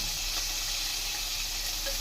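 Dried fish sizzling in a pan for a village-style brinjal and raw mango curry, a steady close crackling fry with no pauses and no voices.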